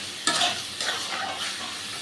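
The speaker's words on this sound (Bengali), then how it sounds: "দেখুন মশলা দিয়ে ভালো করে কষছি আমি" Mutton liver frying with spices in a pan, stirred with a utensil: a steady sizzle runs throughout with a few brief scraping strokes, close and fairly quiet, no voices.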